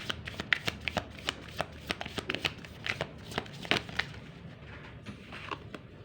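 Tarot cards are shuffled by hand close up, with a quick irregular series of crisp riffling snaps and soft slides, fairly quiet, with no talking.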